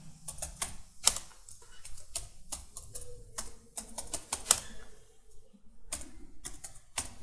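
Keys clatter on a computer keyboard as a project name is typed, a run of crisp, irregular clicks in quick bursts with short pauses between them, close and fairly quiet, with no talking.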